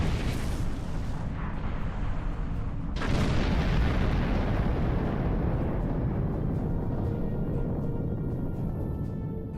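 Deep rumbling explosions roll continuously as a starship comes under attack in Star Trek Online, a loud sustained barrage with a sharp burst near the start and no talk.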